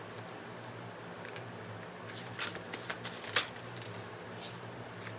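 Tarot cards being shuffled by hand: a soft, steady riffle with a cluster of crisp flicking snaps in the middle, close and alone, with a low background hum.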